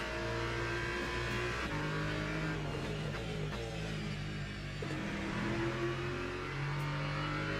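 A BMW race car accelerates hard at Laguna Seca in a racing video game, its engine note climbing through the gears in a loud, steady, close whine with no voices over it.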